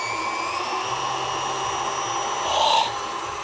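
A new KitchenAid stand mixer runs with a steady motor whine and hum, close and even, swelling briefly near the end, with no talking.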